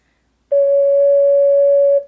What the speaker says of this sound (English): Next, let's play a C sharp or D flat.